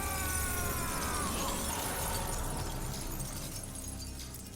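A glass window shatters in the ending cutscene of Call of Duty: Modern Warfare 3. A loud, dense crash of breaking glass fills the clip and trails off slowly, with no talking over it.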